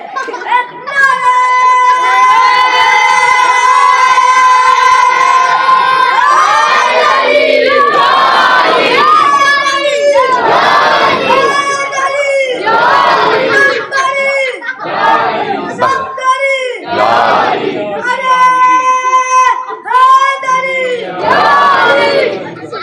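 A large crowd at a religious gathering marking the martyrdom of Imam Ali chants a slogan together, with loud, sustained unison calls rising and falling in waves of massed voices.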